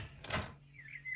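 A house door opened by an elderly woman, a short scraping rush followed by a faint squeak, close and quiet over a low steady hum.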